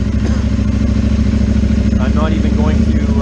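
A 2022 KTM Duke 890R fitted with dual exhausts runs loud and close at a steady, throbbing idle, the engine note continuous throughout with faint voices underneath.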